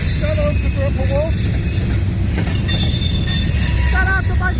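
A Union Pacific freight train led by steam locomotive 3884 rolls past close by in St Paul, Minnesota, with a loud steady rumble and wheels squealing in several bursts.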